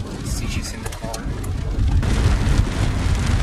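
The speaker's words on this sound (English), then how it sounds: "The storm is still quite intense" Heavy rain from an intense overnight thunderstorm in Argentina, a steady loud wash with a low rumble beneath, broken by brief faint noises and no clear talking.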